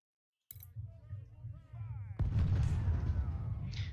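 Booming Civil War artillery fire rolls out in Ultimate General: Civil War, with a sharp blast partway through and a continuous rumbling battle din after it, fairly faint overall.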